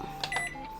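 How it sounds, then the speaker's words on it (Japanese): A microwave oven heats a Lawson convenience-store cabbage and rice meal at 500 watts, giving a steady hum with a few brief clicks or beeps over about a second, close and clear, with no talking. "ちょっと電子レンジで温めたいと思います"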